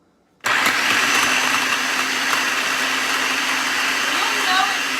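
A countertop blender runs at full speed with the lid on, churning a churro fat bomb mixture in a loud, steady whir that starts abruptly and holds without pause.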